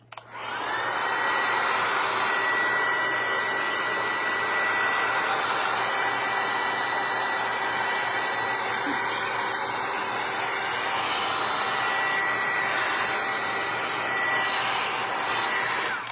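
Hair dryer blowing steadily and loudly on a freshly painted faux crackle decoupage tray, a continuous whirring airflow with no break throughout and no voices.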